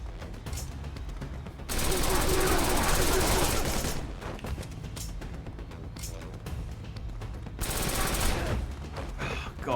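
Sustained automatic gunfire from a gun in the action game Wanted: Dead, dense rapid bursts of shots in two long loud volleys with scattered single shots between them, close and intense, with a voice speaking at times.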